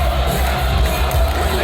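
A wrestling crowd at a United Wrestling match roars and cheers in a steady, dense wall of noise, loud and continuous with scattered whoops.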